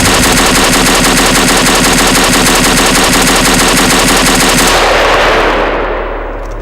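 A DP-28 machine gun fired in Garry's Mod, a loud, rapid, evenly spaced automatic burst lasting several seconds, then cutting off into a fading echo.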